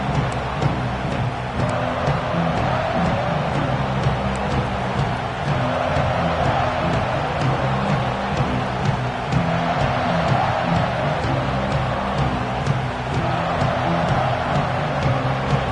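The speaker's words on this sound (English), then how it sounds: "This crowd ready to make its presence known." A steady, dense roar from a football stadium crowd at a Nebraska versus UCLA game continues unbroken and fairly loud, with no talk.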